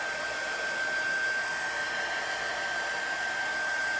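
Steady blowing roar of a heat tool drying white chalk paste on a craft stencil, constant and close for several seconds with a thin high whine and no voices.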